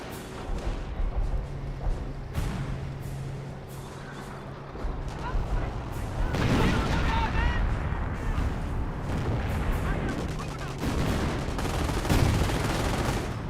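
Tank destroyer cannon shots mixed with rattling infantry gunfire and explosions in a Company of Heroes battle, a dense continuous barrage with sharp reports standing out, under a commentator's running talk.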